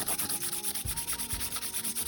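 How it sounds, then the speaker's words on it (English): A dry paintbrush scrapes over a textured junk journal page in a quiet, rapid rhythm of short rubbing strokes, close up and with no speech. "I'm just like scraping my brush across the page, and it picks up all the texture"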